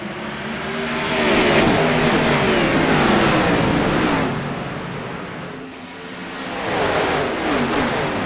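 Race cars in an Xfinity Series video game race roar away at the green flag at Charlotte, a dense, loud wash of engines rising and swelling as the pack gets underway.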